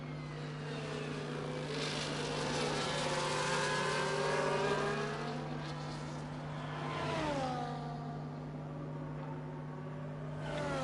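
F1 24 race cars at the Singapore Grand Prix: a steady engine drone with passing cars sweeping by, their engine notes rising and falling as they pass, under a constant low hum, no talking.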